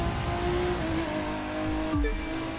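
A race car in The Crew 2 roars at sustained high revs with steady engine drone and shifting tones, loud and close, with a brief pitch dip near the end as it keeps accelerating.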